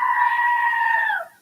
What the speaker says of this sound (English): today's animated films must have a screaming goat gag